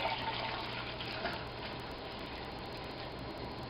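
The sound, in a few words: beer poured from carboy into a glass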